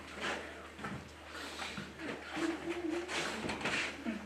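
A bird coos softly a few times, low and rounded, at modest volume. Faint murmuring voices and room noise sit underneath.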